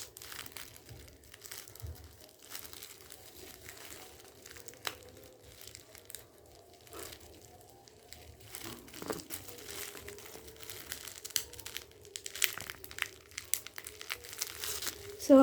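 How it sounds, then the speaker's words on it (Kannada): Packaging tape being cut with a cutter while a parcel of sticky notes is unboxed, giving soft, close crinkling and scraping of tape and cardboard over about fifteen seconds, growing a little louder toward the end. "Okay tape ಸುತ್ತಿದ್ದಾರೆ. ಅದಕ್ಕೆ ನಾನು ಕಟರನ್ನು ಯೂಸ್ ಮಾಡುತ್ತಿದ್ದೇನೆ"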